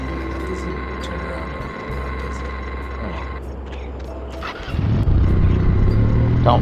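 A motorcycle engine in the video game No One Lives Forever hums steadily, then surges into a louder, rougher rev near the end, with voices speaking over it.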